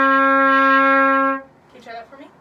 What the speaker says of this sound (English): the note D, which D is going to be first valve and third valve.